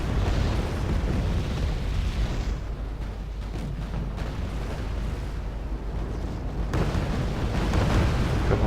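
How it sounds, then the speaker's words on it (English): Bombing explosions in the strategy game Wargame: AirLand Battle, an aircraft striking anti-air positions; rumbling, overlapping booms and crackling blasts roll continuously, heavy and sustained with bursts of intensity. "He's coming in just to bomb the AA that's here."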